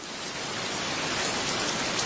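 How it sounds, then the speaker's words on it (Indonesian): Heavy rain pours down in a dense, steady hiss of drops striking surfaces, loud and continuous throughout with no voices. "Tidak biasanya hujan turun sederas ini di negeri kita"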